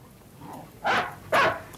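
Two loud, close barks from a farm dog on a chain, spaced about half a second apart, rising out of a quiet background.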